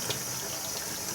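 Hot water runs from a tap over a glass bottle in an egg-in-a-bottle experiment, a steady close hiss of flowing water with no break and no voices.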